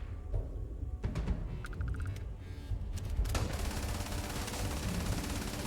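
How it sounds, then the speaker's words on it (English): Bursts of gunfire in the space game Starfield, sharp rapid shots and a quick rattling volley, followed by a denser wash of noisy combat sound. "What are you shooting at?"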